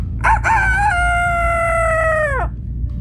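A rooster crows once nearby in open countryside, a loud drawn-out call with a stuttering start and a long held note that falls away at the end, over a low steady background rumble.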